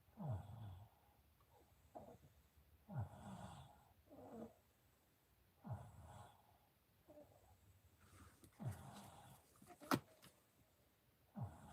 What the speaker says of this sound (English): This is Avery here, snoring on my lap, on my kneecap.